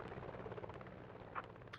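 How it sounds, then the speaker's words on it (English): A helicopter in a video game flies with a steady, dense rotor thrum that stays constant throughout. "Canada is going to dip the front of that helicopter down and try to pick up some speed."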